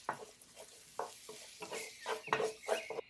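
Onion cooking in a pan is stirred with a spoon, giving soft, irregular scraping and stirring strokes over a faint sizzle, close and quiet, with no talking.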